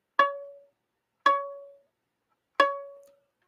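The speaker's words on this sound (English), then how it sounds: "Violins and violas. To play C sharp," Three separate C-sharp notes on the A string of a violin or viola, each struck cleanly and fading out before the next, with silence between them.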